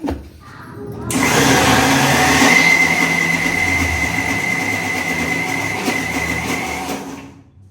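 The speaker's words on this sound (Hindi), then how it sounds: "तो दाल को हमने दरदरा सा पीसा है, बिल्कुल बारीक नहीं पीसना है, दरदरा सा पीस लिया है।" A mixer grinder whirs loudly and steadily while coarsely grinding lentils (dal), starting abruptly and running continuously with a high whine before cutting off near the end.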